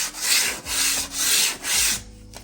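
Hand sanding an MDF edge with 120 grit sandpaper: four steady back-and-forth rasping strokes, close and fairly loud, each a broad hissing scrape, then the motion stops.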